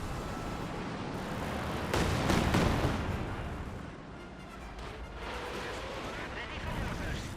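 Rocket strike artillery in Company of Heroes 2, a dense burst of booming blasts that swells around the middle and then fades into rumbling battle noise, with a commentator talking over it.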